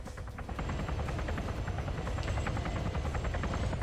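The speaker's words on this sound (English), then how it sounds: "Now my question is the helicopter gonna go back" Helicopter in a video game, a steady close rotor thrum with rapid pulsing blade chop that continues without a break, loud and unchanging.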